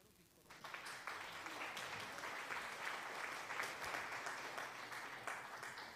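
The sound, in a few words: applause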